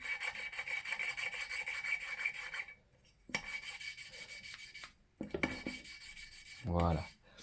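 Grinding paste rasped against a car engine's cylinder head, a steady gritty scraping that runs for several seconds, breaks off, then resumes in shorter strokes with brief pauses and a few knocks near the end.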